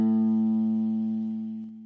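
A single guitalele A string, the thick low string, plucked once and left to ring, a clear tone with bright overtones that fades slowly, close and alone with no talking.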